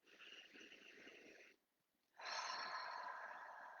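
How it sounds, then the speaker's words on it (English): A slow, deep breath drawn in and released during a calm guided tapping session: a long airy inhale, a brief pause, then a fuller, louder exhale, close and alone. "Take a deep breath here."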